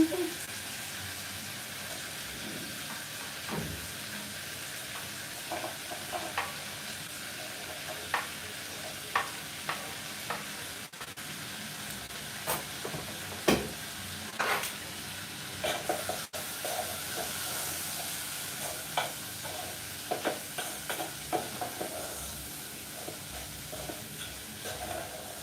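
Tomatoes and onions frying and steaming in a pan, a constant sizzle broken by scattered clicks and scrapes of stirring.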